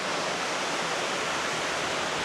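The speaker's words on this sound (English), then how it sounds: "Look at all that water cascading over the dam" Water pours over a dam in a small rural North Carolina town, a steady, dense roar of rushing spray, close and loud for the whole stretch with no voices.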